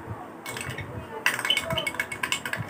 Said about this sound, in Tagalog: Haluin po natin hanggang sa siya po ay medyo bumula.